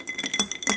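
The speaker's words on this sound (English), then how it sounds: "You stir it quite nicely without shaking it up." Ice rattles and clinks in a glass as an Old Fashioned cocktail is stirred, a quick run of close, bright taps and scrapes over less than a second, heard alone.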